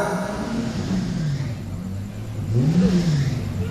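A car engine hums and rises in pitch as it passes by nearby, loud and steady, swelling toward the end with a revving whir.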